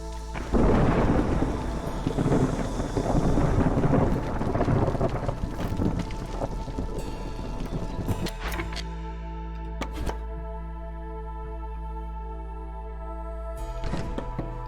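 Thunderstorm in the game Against the Storm: heavy rain and rolling thunder loud at first, then easing into steady rain with sharp distant cracks.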